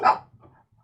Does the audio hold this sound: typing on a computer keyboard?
no